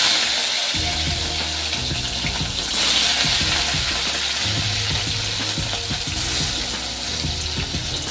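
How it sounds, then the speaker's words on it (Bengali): Rui fish pieces frying lightly in hot oil, a steady loud sizzle with crackling pops and occasional stirring clatter, continuous throughout with no voices. "মাছগুলোকে সুন্দরভাবে একটু পাল্টিয়ে ভেজে নেব"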